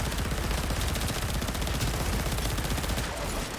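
Rapid automatic gunfire from a weapon in the Warframe video game, a dense continuous burst of shots lasting several seconds, loud and up close with no talking over it.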